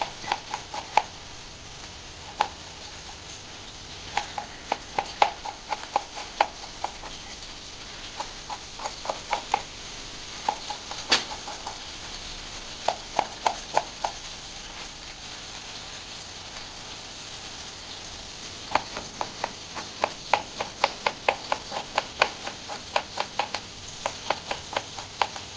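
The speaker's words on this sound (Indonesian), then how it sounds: "Lalu, ini saya iris tipis-tipis, setipis mungkin." A knife slices purple sweet potato thinly on a board, giving sharp irregular taps in quick bursts with short pauses, steady and close, no talk.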